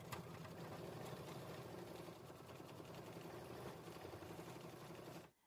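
An embroidery machine stitches out a design on a quilt project with a steady, rapid mechanical whir and rhythmic needle chatter, fairly quiet and continuous before stopping abruptly at the end.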